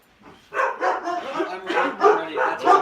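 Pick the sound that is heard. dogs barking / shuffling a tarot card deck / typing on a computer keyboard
dogs barking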